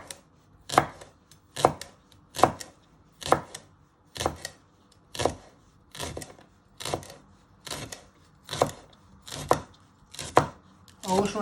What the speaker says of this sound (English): with your knife you're just going to finely slice them into little pieces